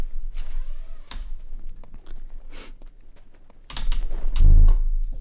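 Computer keyboard and mouse clicks come in short irregular bursts of key taps, close and fairly loud, with a heavier thump of handling near the end and no talking.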